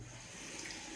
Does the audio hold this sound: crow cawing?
no